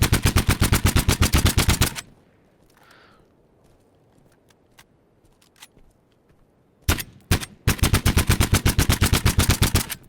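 Weapon fire in a developer's in-progress video game: loud, rapid automatic bursts at the start and end, with sparse clicks and a quiet gap between them.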